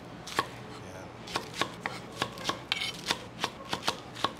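Knife chopping onion on a board, about a dozen crisp, evenly spaced cuts, close and alone.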